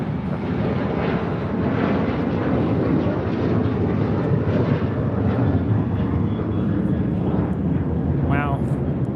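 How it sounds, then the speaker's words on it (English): American Airlines Boeing 737-800 airliner taking off at LAX, a steady, loud broadband jet roar holding throughout with a brief tonal whine near the end. "That is American 1899 taking off to Indianapolis on a 737-800"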